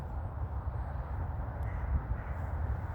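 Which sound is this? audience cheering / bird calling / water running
bird calling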